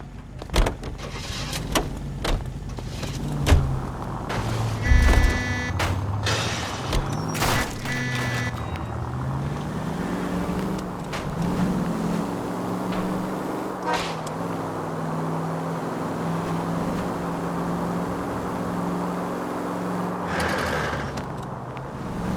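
A 1940s-era car in L.A. Noire accelerates through several rising engine revs and gear shifts after a few clunks and door-like thuds, then settles into a steady, continuous engine drone.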